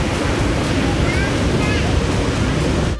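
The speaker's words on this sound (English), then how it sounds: "you don't really swim now because of the waves" Ocean surf rolling onto a beach in Phuket during low season, a loud, continuous wash of breaking waves mixed with wind buffeting the microphone, with no pauses until it cuts off at the end.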